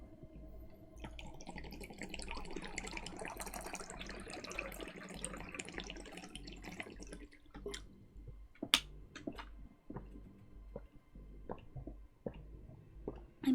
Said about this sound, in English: I'm pouring water into my cup because it's so hot.